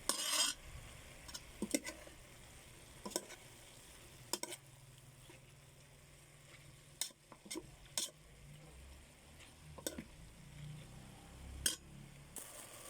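Utensil stirring bamboo shoots in coconut milk in a pan, giving soft scraping swishes with a low simmering sizzle underneath and occasional sharper clinks of metal against the pan, close and fairly quiet.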